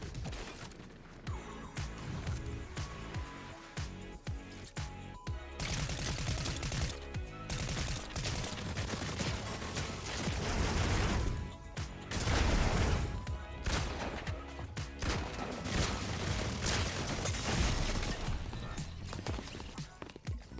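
A minigun fires in rapid, dense bursts amid the chaotic noise of a naval battle in the video game Skull and Bones, with intermittent loud volleys over the busy game soundscape.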